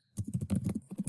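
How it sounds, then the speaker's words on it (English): Someone types rapidly on a computer keyboard, a quick irregular run of soft close key clicks in a quiet room, with no talk. "So I'm going to go here and I'm going to start typing"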